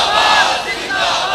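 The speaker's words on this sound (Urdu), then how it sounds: "ایتھوں بڑے نعرے ہو گئے" Large crowd chanting slogans in unison at a religious rally, a loud continuous roar of many voices filling the whole moment.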